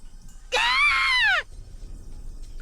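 A girl screams in the Higurashi visual novel game: one sustained, high, wavering scream lasting about a second, rising and then falling in pitch, loud and alone over quiet background.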